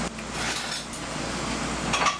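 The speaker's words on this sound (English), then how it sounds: "let me get a couple of forks for me and my friend" Metal forks clink and scrape against dishes in a home kitchen, a steady run of soft clatter with brief sharper chinks near the end, close and without talk.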